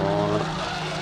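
Renault Clio number 95 racing at the Biķernieku circuit, engine droning loud and close with steady harmonic tones and a tyre scrub, a continuous full-throttle pass lasting about a second.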